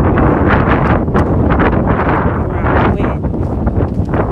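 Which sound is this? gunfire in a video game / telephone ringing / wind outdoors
wind outdoors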